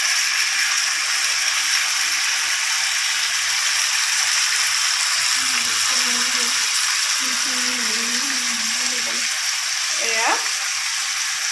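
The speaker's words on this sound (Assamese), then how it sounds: "মিহলাই দিলোঁ দেই খৰিচাখিনি" Pork with packaged fermented bamboo shoot (khorisa) sizzles loudly and steadily in a pan as it is stirred, with a voice speaking briefly over the constant frying hiss.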